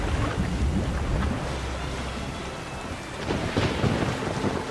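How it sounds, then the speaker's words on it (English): Thunderstorm in The Witcher 3 on the Isle of Mists, with a steady roar of heavy rain and deep rolling thunder rumbling continuously, swelling again toward the end. "The lightning crashing down on our location ahead of us."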